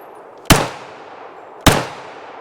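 Two loud, sharp .45 shots from an HK Mk 23 Mod 0 SOCOM pistol at an outdoor range, about a second apart, each a sudden crack with a short decaying tail, close and without talk.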